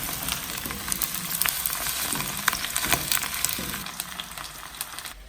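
Zucchini sizzling steadily in a pan of hot olive oil and butter, a close, continuous crackling fry with scattered pops that eases slightly toward the end, no voices.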